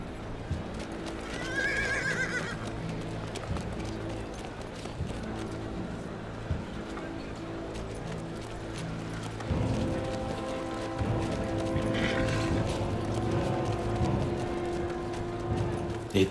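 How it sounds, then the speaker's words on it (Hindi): Horse brought for a mounted warrior in a historical drama scene, neighing and whinnying with clip-clopping hooves and a busy layered background, the sounds continuing for the whole stretch with no clear speech. "घोड़ा लेकर आओ मेरा।"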